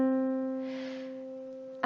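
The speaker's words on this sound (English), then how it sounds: "the first note that you sort of get in the treble clef is middle C" A single middle C note sounds clearly and alone, with a sharp onset and a steady tone that slowly fades over almost two seconds.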